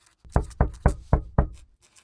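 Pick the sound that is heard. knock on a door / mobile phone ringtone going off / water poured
knock on a door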